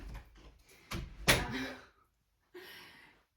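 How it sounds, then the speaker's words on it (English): A door is shut indoors: rustling and a heavy thunk of it closing, then a brief softer sound after a moment of quiet. "I'm going to shut the door so that I can actually finish this video in peace"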